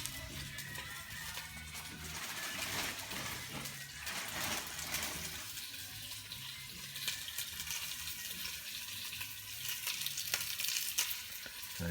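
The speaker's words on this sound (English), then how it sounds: "grab this pork belly and we're going to brown it off" Pork belly browns in a frying pan, giving a soft, steady sizzle with occasional crackles and stirring clatter throughout, fairly faint and with no talk over it.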